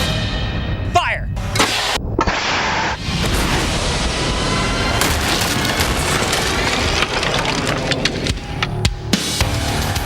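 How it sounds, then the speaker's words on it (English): Air cannon firing a 2x4 board at 100 miles per hour, simulating tornado debris: a sharp loud blast followed by a long dense rushing roar and cracking impacts, close and continuous, with voices mixed in. "we cranked up the air cannon to launch it at 100 miles per hour"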